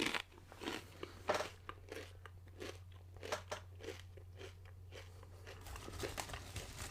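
Someone bites into and chews crunchy Cinnamon Crunch Popcorners chips, a close, steady run of crisp crackling crunches over several seconds.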